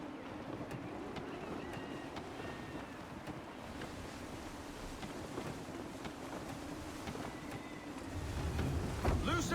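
Gusty wind buffets a sailing ship in Assassin's Creed III, a steady broadband rush with creaking and splashing water, swelling louder and rougher in the final seconds.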